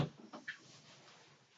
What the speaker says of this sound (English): I just closed that door for privacy